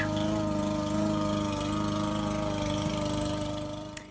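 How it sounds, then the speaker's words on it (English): A lawn mower runs steadily outside the house as the grass is mowed, a continuous mid-pitched engine drone with a faint rhythmic throb, heard muffled from indoors with no one talking. "my husband started mowing the grass"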